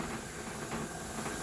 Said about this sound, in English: you can see that stream of steam